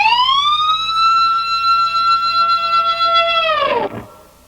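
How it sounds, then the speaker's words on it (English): A heavily processed electric guitar plays a piercing G harmonic bend on the G string, sliding up and holding a bright, siren-like pitch before diving sharply down with the tremolo bar and cutting off. "the second note to the very last note of the solo would be that G harmonic bend"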